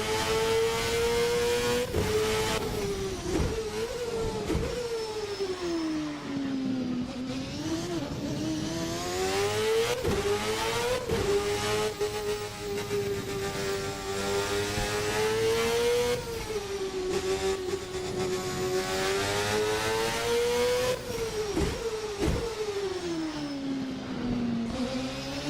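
A 1999 Formula North America open-wheel race car in a racing game, its engine revving high and steady through repeated gear changes, loud and continuous with pitch rising and dipping, no talk.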